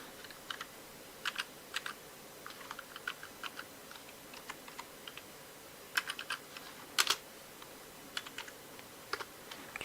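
Typing on a computer keyboard comes in quiet, irregular bursts of clicky keystrokes with pauses between them, close and soft over faint room hum, with no talk.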